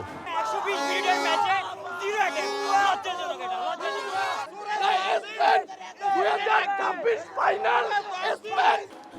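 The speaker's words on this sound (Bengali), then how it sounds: "শেষ বাঁশি বাজার সঙ্গে সঙ্গে স্পেনের সমর্থকদের উল্লাসে মুখর হয়ে ওঠে চারপাশ।" Spain supporters erupt in loud, sustained cheering and chanting after the World Cup final whistle, a dense crowd of voices shouting and roaring continuously with rising bursts of celebration.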